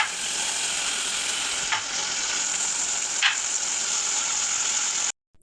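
Chicken pieces and tomatoes sizzle and fry steadily in a pan, with two brief scraping stirs cutting through the constant loud hiss before it stops abruptly.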